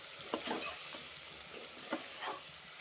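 Onions fry with mint and coriander leaves while a spoon stirs them through the pan, soft scraping strokes over a steady low sizzle.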